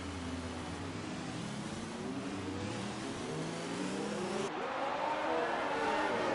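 An F1 race car in an F1 racing game, at Hungary, accelerates with a high engine note rising and shifting through gears, steady and close, under commentary.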